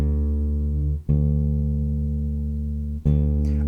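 A bass guitar plays a D note fretted at the fifth fret, plucked twice with a long, steady low sustain after each pluck.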